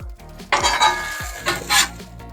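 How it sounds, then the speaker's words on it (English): A spatula scrapes and clinks against a Blackstone griddle as a breakfast sandwich slider is flipped, with two loud metallic scraping bursts over a soft sizzle. "I'm gonna go ahead and flip this one"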